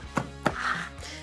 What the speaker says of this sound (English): Chop them all together.